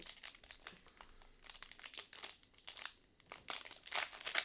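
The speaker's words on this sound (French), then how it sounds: "Je n'arrive plus à ouvrir mon booster." A Riftbound card booster pack's stubborn plastic wrapper crinkles and tears in repeated close, uneven bursts of rustling, quiet overall and with no talking.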